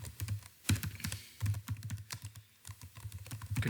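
Code being typed on a computer keyboard: quick, uneven clatter of keystrokes with occasional heavier taps, close and clear, with no talking.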